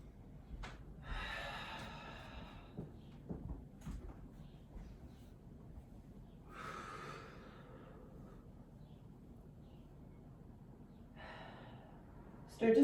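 Slow, deep breaths during a full-body stretching session, several soft airy inhales and exhales spaced seconds apart, faint and close, with quiet talk in between.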